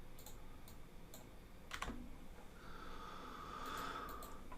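Shortcut keys on a computer keyboard click in a few sparse, sharp taps, one louder press standing out, close and quiet against faint room noise.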